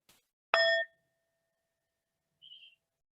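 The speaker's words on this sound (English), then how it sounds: "call you back with the Tibetan singing bowl. Let me play that so you'll know what it sounds like." A Tibetan singing bowl struck once, giving a bright ringing tone with clear overtones that fades quickly, followed by a brief faint high ring, with no talk.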